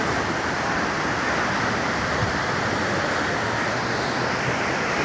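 Surf breaks steadily at Praia do Pernambuco beach in Guarujá, where two currents meet. The wash is broad and close, a constant roar with no pauses and no voices.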